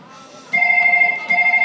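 A mobile phone rings with a steady electronic two-tone chime that starts abruptly and carries on in repeated bursts, fairly loud and close, during a Chhattisgarhi village nacha stage drama.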